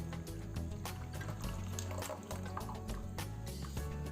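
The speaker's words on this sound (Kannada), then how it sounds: "ಈ ಬೆಲ್ಲದ ನೀರನ್ನು ಇದಕ್ಕೆ ಹಾಕ್ಕೊಳ್ತಾ ಇದ್ದೇನೆ" Melted jaggery water being poured into ground batter for kaltappa, a continuous close liquid splashing and gurgling with small drips throughout.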